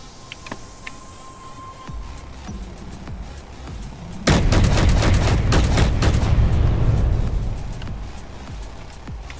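Turret gunfire in Space Engineers, at first sparse distant shots and a thin electronic tone, then a sudden loud burst of dense rapid automatic fire that rattles on for several seconds before easing off.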